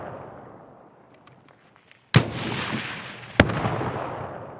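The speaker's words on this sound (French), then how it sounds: "C'est qui tire? C'est lui qui tire là?" Gunfire in the video game Escape from Tarkov, two sharp loud shots about a second apart, each followed by a long echoing tail over a quiet outdoor coastal ambience.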